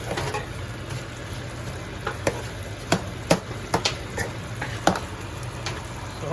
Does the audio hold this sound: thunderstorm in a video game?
no